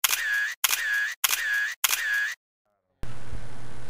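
Four camera shutter clicks in a steady rhythm, each close and loud with a brief whir, taken for a selfie at a stand during the Aceh Barat cultural week festival, followed by a burst of crowd noise.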